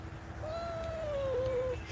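Kittens meowing outdoors, one clear drawn-out meow rising and wavering for over a second, close and fairly loud over a low steady background hum.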